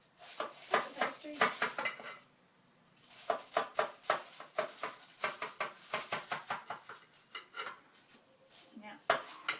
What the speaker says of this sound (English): So, I'm going to cut the pastry.